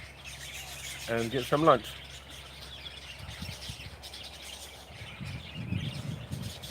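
Birds chirping outside, a short burst of rapid tweets near the start followed by fainter calls, heard beside a person talking casually.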